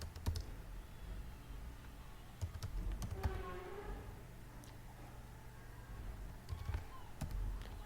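Someone types a mobile phone number on a computer keyboard, a quiet series of sharp key clicks in small bursts with pauses between them, close and alone over a soft background hum.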